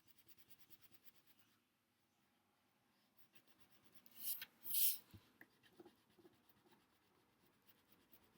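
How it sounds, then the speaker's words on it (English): Crayon scratching and rubbing on paper as a circle is filled in with color, a soft continuous scribble with a louder burst of strokes midway, close and alone. "I'm going to use my crayon to fill it in"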